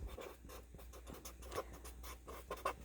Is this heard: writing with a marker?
yes